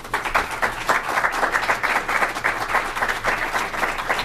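An audience at an antitrust discussion applauds to welcome Senator Amy Klobuchar, with dense, sustained clapping from a full crowd that stays steady and loud throughout.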